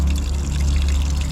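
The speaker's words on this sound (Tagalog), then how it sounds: "lagyan natin siya uli ng panibagong tubig at pakukuluan na po uli natin siya" Water pours steadily into a pot of pork bones to be boiled, a continuous close gushing and splashing with no pauses or talking.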